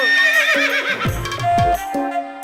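A horse in a village scene lets out a loud, close whinny with quavering pitch, followed by a few lower snorting calls and faint hoof clatter.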